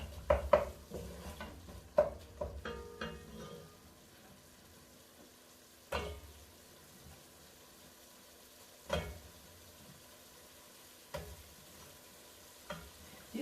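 Carrots being stirred in a pot of githeri, with a few sharp spoon-against-pot knocks and scrapes over a low, steady cooking sizzle, the clatter coming in bursts and then spaced out.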